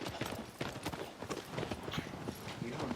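Horse hooves clip-clop in a video game as the horse moves in a quick, dense, steady rhythm, close and fairly loud, with players talking over it.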